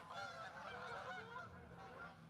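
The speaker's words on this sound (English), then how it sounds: "Here's some ASMR of geese." A flock of geese honks continuously in overlapping calls, faint and distant, with no clear voices.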